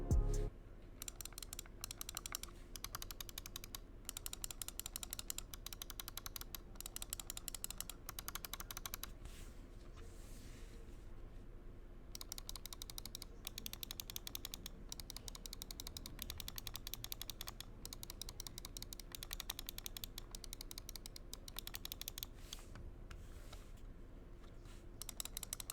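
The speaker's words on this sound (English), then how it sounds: "It uses Razer's optical switches that feel and sound better than those in the more expensive Razer Viper and Viper Ultimate." A Razer DeathAdder V2 Mini mouse with optical switches is clicked over and over in a quiet room, giving a long run of soft, sharp, evenly spaced clicks with no talking.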